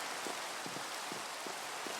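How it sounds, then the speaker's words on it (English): Steady hiss of rain falling in Minecraft, a dense even wash of drops with faint soft thumps recurring at regular intervals underneath. "Yes, rain!"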